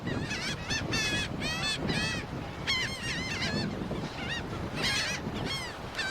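Geese honking repeatedly in a noisy chorus, loud and close, with steady wind and background rumble beneath the calls.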